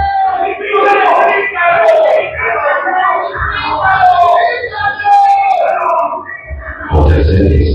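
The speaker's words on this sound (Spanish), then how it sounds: "la multitud seguía gritando" A large crowd shouting and yelling together, loud and close, voices rising and falling in a continuous angry roar with a brief dip before swelling again.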